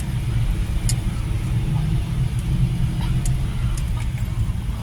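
Steady car engine rumble fills the north parking lot of SM Mall of Asia, a continuous near drone with faint squeaks and clicks on top and no talk.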